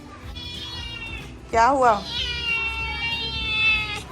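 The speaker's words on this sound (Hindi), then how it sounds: "ये बेला को ये वाली बिल्ली जो है ये दूध भी पी लेती है।" A cat meows close by, a sharp wavering cry in the middle with longer drawn-out mewing around it, while someone speaks softly over it.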